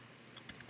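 A handful of quick, light keystrokes on a computer keyboard entering a search, close and crisp, five or six clicks in rapid irregular succession with no talk.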